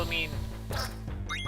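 A cartoonish duck quack from the video game Final Fantasy IX, a short nasal honk over steady, tonal game music, with a couple of brief higher chirps near the end.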